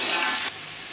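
Tomatoes and green chillies go into a pan of golden frying onion, ginger and garlic masala, setting off a loud hiss and sizzle that drops sharply to a softer steady fry halfway through.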